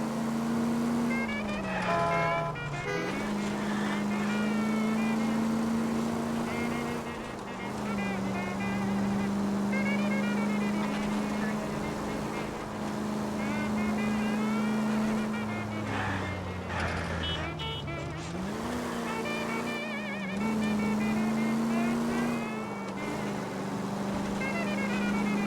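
A car engine in L.A. Noire drones steadily at a loud, close level, its pitch dipping and climbing again with each gear change over a long drive, with occasional faint talk.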